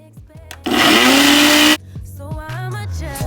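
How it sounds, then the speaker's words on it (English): A Nutri-Ninja blender whirs loudly while blending aloe vera, a steady, harsh motor roar lasting about a second. Softer squeaky and clattering sounds come before and after it. "Now we're going to blend this up. So here's the Nutri-Ninja that I'm going to use."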